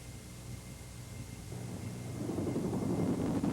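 A Boeing CH-47 Chinook helicopter gives off a steady, noisy rotor and engine roar that swells louder toward the end, heard from a distance without speech.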